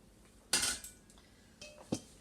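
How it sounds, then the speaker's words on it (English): A spoon stirs homemade coleslaw inside glass canning jars, giving a few faint scraping clinks and knocks: one louder burst early, then two lighter taps near the end. "So I'm just stirring here"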